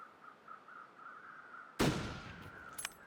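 A single rifle gunshot cracks at a distance in the survival video game The Long Dark, one sudden burst with a decaying tail over a faint steady tone, followed by a small rattle near the end.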